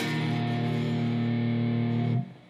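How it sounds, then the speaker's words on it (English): Electric guitar picked downward from the A string rings out as a sustained, lightly driven chord, steady and close, then cut off sharply near the end, with no talking. "Now what we're going to do here is I'm going to pick from my A string down in a downward motion."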